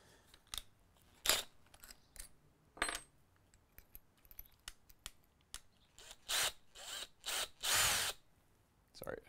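A handheld power drill fitted with a bit fires in short, uneven bursts of whirring at close range. Small clicks and handling noises fall between the bursts, and the last few runs are longer and louder.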